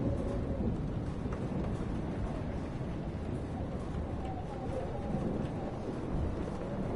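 Steady, dense rumble of a thunderstorm with heavy rain fills the scene from the video game Life is Strange, a continuous low roar without distinct individual thunder cracks.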